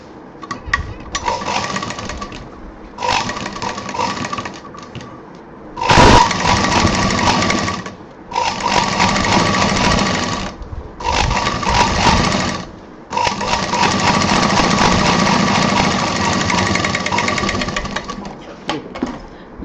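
Sewing machine stitching the left and right sides of an inner pocket for a handmade handbag, running in several loud bursts of steady whirring separated by short pauses, close up with no talk.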